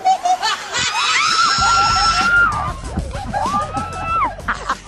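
A woman lets out loud, shrill screams, rising and sustained, amid excited group commotion and laughter, with voices chattering around her.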